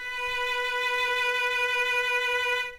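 Violin bowing a sustained B note on the A string in first position, a single steady bright tone held for nearly three seconds before stopping, clear and close.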